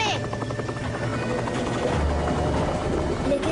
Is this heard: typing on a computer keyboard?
no